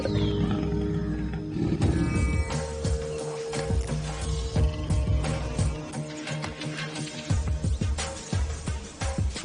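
Leopards calling and roaring, a dense run of loud, close, rasping roars and grunting calls that rise and fall continuously, heard alone without talk.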